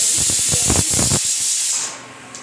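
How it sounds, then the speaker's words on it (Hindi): A pressure cooker boiling potatoes vents a loud, close steam hiss with a pulsing rhythm early on, then fades out. "मैंने आलू रख दिया है बॉयल होने के लिए और इसकी सीटियाँ आ रही हैं"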